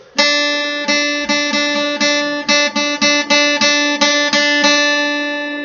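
A single plucked guitar note on the fifth string, third fret, rings out, repeated about a dozen times in a steady rhythm, each pluck clear and close with a short sustain.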